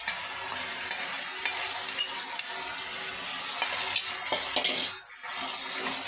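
Lentil fritters and prawns fry in a pan with a steady close sizzle, broken by repeated scraping and clinking of a utensil stirring against the metal.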